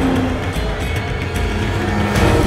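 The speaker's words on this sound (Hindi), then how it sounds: "गाड़ी भगाओ" A car speeds away with a loud, sustained engine roar and road rumble, close and continuous, rising slightly at the end.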